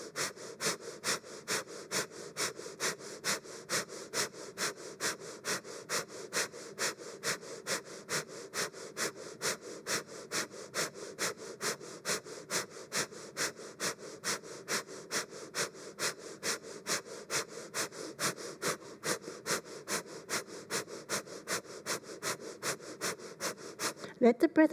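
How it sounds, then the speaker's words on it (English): Rapid, rhythmic kundalini breath-of-fire breathing through the nose, with sharp nasal exhales pumping steadily at about two per second throughout, close and even. "Let the breath of fire be mechanical."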